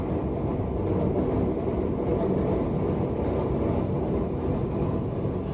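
A train passes nearby in a steady, dense rumble of wheels and carriages that holds loud and unbroken throughout, with no voices.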